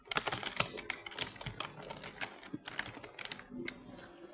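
Quiet, rapid typing on a computer keyboard, with irregular soft clicks and occasional bursts of keystrokes. It sounds close but low in level.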